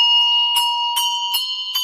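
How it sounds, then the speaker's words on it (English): High treble handbells struck with mallets ring out in a quick rising line, four or five bright strikes over a sustained ringing tone, loud and close, with no voices. "Often in our high treble bells, we'll have malleted lines moving up through the top bells."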